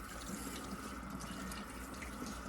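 Water runs steadily from a salon sink tap during a shampoo, a continuous close splashing hiss that fills the moment with no voices.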